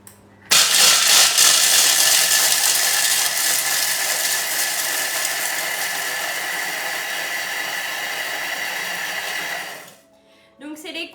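A Thermomix grinding peanuts into powder at speed 6, a loud steady whirring roar that starts abruptly, holds for about nine seconds, then cuts off, followed by brief faint clatter.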